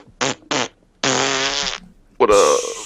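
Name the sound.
voice imitating fart noises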